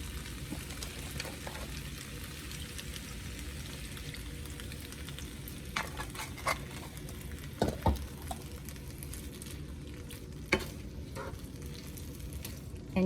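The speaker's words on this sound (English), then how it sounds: "you're basically just going to kind of fry the green beans with the garlic and the soy sauce for a few minutes" Green beans fry with garlic and soy sauce in a pan, giving a steady, dense sizzle throughout, with occasional sharper pops and faint stirring scrapes near the middle and end.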